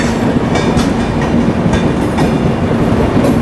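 Passenger train on the Lucknow–Barabanki line running close alongside, a steady loud roll of wheels with rhythmic clickety-clack over rail joints and a constant low rumble throughout, no voices.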